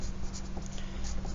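A pencil scratches across paper while writing a name, giving short, close, dry strokes with no voices over them.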